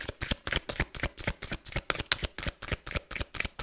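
Tarot cards are shuffled in quick, even riffles, a steady train of crisp papery flicks close up and fairly quiet, with no talk.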